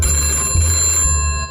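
Telephone ringing in a comedic sci-fi setting, a loud continuous electronic ring with steady tonal pitch, briefly interrupted mid-way, close and alone without talk.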